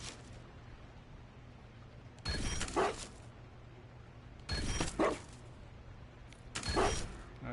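Dog barking in the fantasy role-playing game Dragon Age: Inquisition, three separate short bursts of barks spaced a couple of seconds apart over a low steady background hum.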